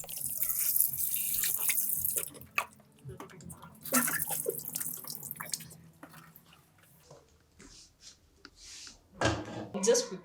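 Tap water runs into a sink as pork is washed in a home kitchen, a steady splashing stream with clinks and pauses, while a voice talks over it at times.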